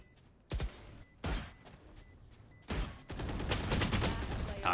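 Rifle shots in the tactical shooter Valorant during a 2v2 round, three sharp isolated cracks spaced about a second apart, then a denser sustained burst of firing, moderately loud over quiet game ambience.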